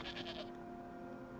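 A goat bleats in a town in the Elder Scrolls Online video game, a short wavering cry over quiet ambient game music.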